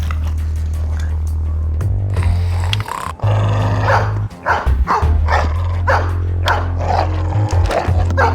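Dog barking and growling in the Dexter video game, a run of loud, close barks and snarls over a steady low game soundtrack hum.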